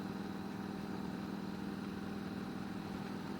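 A Harley-Davidson motorcycle engine runs at a steady, even drone on a short afternoon ride, a continuous low rumble at moderate level with no talk over it.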